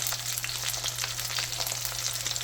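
Meat sizzles steadily in a hot pan over high heat, a dense, continuous crackle with scattered sharp pops, close and fairly loud, with a low electrical hum beneath and no talking.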